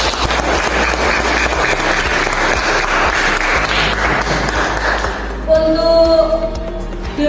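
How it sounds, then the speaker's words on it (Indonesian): A classroom of students claps together in a dense, loud burst of applause for a lesson, sustained for several seconds before fading into a few scattered claps and a ringing ping. "Kita berikan aplaus untuk pembelajaran hari ini."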